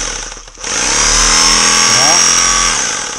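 A Lidl Parkside SDS rotary hammer drill whines loudly, briefly dropping off then spinning back up to a sustained high-pitched motor drone with harsh rattling, close to the microphone.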